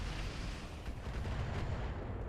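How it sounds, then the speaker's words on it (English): Dense, rumbling missile fire in a vehicle combat video game, a continuous thunderous roar of launches and blasts with no clear gaps. "Lot of missile fire."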